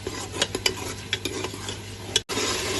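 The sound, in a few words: stirring and frying masala for fish gravy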